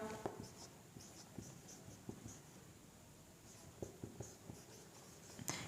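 Handwriting on paper, soft scratchy pen strokes with faint ticks and taps, very quiet and close against a low hiss, with no voice.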